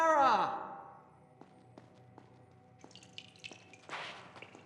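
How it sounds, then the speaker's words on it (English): Water drips from a bath in Prince of Persia: The Sands of Time, sparse soft drops plinking one by one at an uneven pace after a breathy sigh at the start. "Listen to the drops of water of her taking a bath"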